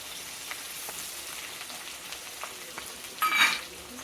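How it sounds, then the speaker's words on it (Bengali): Onion frying in hot mustard oil with bay leaf and whole garam masala, a steady soft sizzling hiss that stays low and even, with a brief louder crackle near the end. "আর পেঁয়াজটা আমি ছেড়ে দেবো এখন সরষার তেলের মধ্যে"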